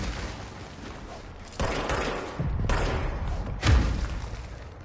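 Heavy gunfire in the video game Control, three loud booming bursts a second or so apart, each with a dense crackling tail over a rumbling background, with no speech.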